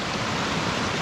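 Steady broadband rush of a small waterfall beside a little bridge on the Gwydir Mawr mountain bike trail, a continuous close, even wash of falling water with no voices.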